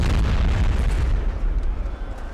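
A dense, loud roar of massed musket volleys rolls through a Napoleonic battle in the strategy game Napoleon Total War, heavy booming bursts overlapping and then fading slightly over a couple of seconds, with no talking.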